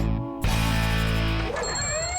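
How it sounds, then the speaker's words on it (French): An alarm clock rings loudly at 7:30 in the morning in an animated children's series, a sustained, bright ringing tone that runs for about two seconds and wavers near the end. "À 7h30 chaque matin, le réveil se met à sonner."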